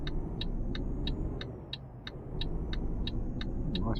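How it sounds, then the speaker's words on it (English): A lorry rolls past on a road in Euro Truck Simulator 2, a low engine rumble that dips briefly and then builds back up, with an indicator ticking steadily throughout. "We can get across now before that lorry comes"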